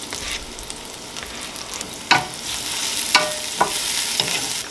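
Aromatics frying in avocado oil in a pan give a steady bright sizzle with several sharp stirring scrapes and clicks, close and fairly loud, with no voices.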